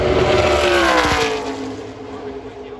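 NASCAR Cup Series race cars roaring at Talladega during the 2021 YellaWood 500, a loud sustained engine drone with a pass-by pitch sweep that fades slightly toward the end.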